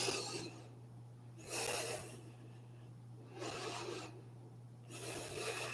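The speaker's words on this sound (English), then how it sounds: "we'll take 2 breaths here" Two slow, deep breaths taken in meditation, each a soft breathy rush of air in and out, close to the mic and alone, with quiet pauses and a steady low hum underneath.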